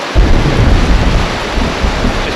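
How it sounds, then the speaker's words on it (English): Heavy tropical thunderstorm over a sailboat, with rain pouring down and deep rumbling thunder, loud and continuous, with wind buffeting the microphone. "A little tropical wave coming through right now. And it's coming down pretty good."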